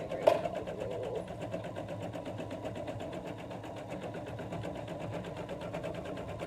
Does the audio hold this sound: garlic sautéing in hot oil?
no